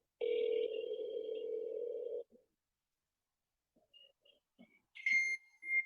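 A sustained telephone tone from a power dialer holds for about two seconds, then falls silent before brief scattered beeps and higher electronic tones return near the end, quiet and clean.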